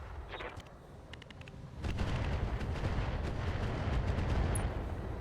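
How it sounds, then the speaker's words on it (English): Artillery from a Bull Shark mech pounds an Annihilator in the RogueTech video game, a dense sustained roar of rumbling blasts after a few sharp early reports. "we're going to continue to drop artillery on this Annihilator"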